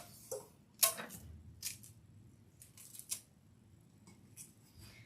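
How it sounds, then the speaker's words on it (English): Tape is pulled and wrapped around the bottom of a tumbler, with a few sharp close rips and crackles between quieter handling sounds and no talk. "I'm really going to tape it up very well."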